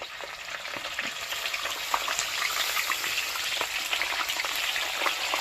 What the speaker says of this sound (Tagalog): papaliguan na po natin siya ng mantika